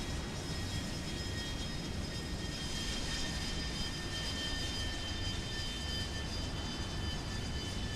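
Steady, loud aircraft engine drone in the War Thunder video game as a plane slows to land on a runway, a continuous unbroken roar with a faint high whine on top and no voices.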